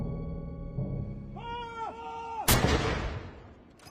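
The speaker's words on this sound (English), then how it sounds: "A gun salute at St." A ceremonial gun salute at St. James's Palace for the proclamation of King Charles III: one heavy, booming report that rumbles away, following sustained brass-like tones and crowd ambience.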